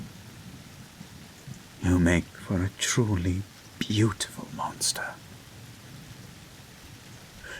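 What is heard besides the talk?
rain and thunderstorm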